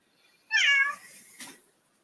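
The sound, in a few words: pet cat meowing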